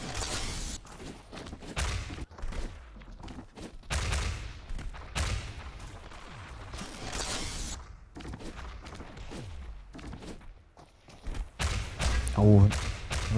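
Rockets firing and exploding in the ShootMania arena shooter, with repeated thumping blasts and booms in a dense, busy mix under continuous excited commentary.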